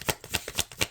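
Tarot cards are shuffled by hand in a brief, close burst of four or five quick papery riffles in an even rhythm.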